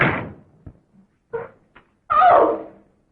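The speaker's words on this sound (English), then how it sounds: "Close the door." A door swinging shut, with a few small knocks and thuds from the latch and frame before a louder closing sound near the end, close by in a quiet room with no talking.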